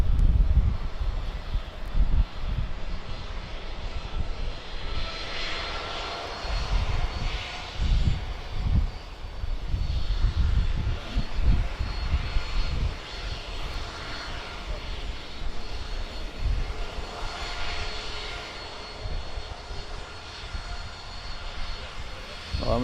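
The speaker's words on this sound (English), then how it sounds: "the next Jet 2 we've got taxiing up towards us is 737-800 off to Dalaman" A Jet2 Boeing 737-800 taxiing at Birmingham Airport gives off a steady, broad engine rumble and whine, sustained for over twenty seconds with slight swells, heard from nearby outdoors.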